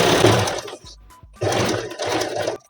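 Sewing machine running in two bursts with a short pause between, stitching along the edge of a four-panel (4 kali) petticoat's fabric; loud, steady whirring close by, with no talking.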